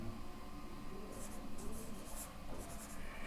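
Chalk or marker scratches steadily across a board during a Class 10 maths lesson on circle area, a continuous close scraping under a teacher's talking voice.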